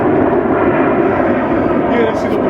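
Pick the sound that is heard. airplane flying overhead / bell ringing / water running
airplane flying overhead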